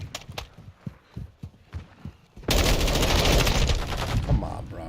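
Gunfire in Modern Warfare II multiplayer: scattered individual shots and footsteps at first, then a sudden sustained roar of rapid automatic fire and noise filling the rest.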